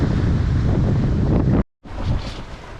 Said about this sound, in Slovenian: ampak danes naj bi bil jugo, kar tudi je